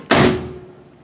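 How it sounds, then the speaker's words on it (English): A Mustang car door with a newly installed roof rail weather strip, shut once with the window up, making a single loud, solid thud that decays quickly, with no talking. "if I shut the door"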